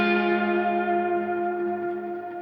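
A single sustained electric guitar note on the fourth string, slid up from the fourth to the seventh fret through an effects unit with echo and mild distortion, ringing steadily and fading slowly.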